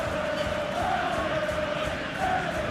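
A football stadium crowd in a video game gives a steady, loud, dense roar with a sustained chanting drone, continuous throughout without distinct peaks.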